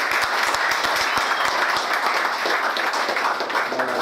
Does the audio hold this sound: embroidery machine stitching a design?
no